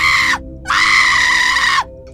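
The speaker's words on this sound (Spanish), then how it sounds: "La inmunda gritó" A possessed woman in a dramatized story lets out two long, shrill screams, loud and close, separated by a short gap, with no other voices.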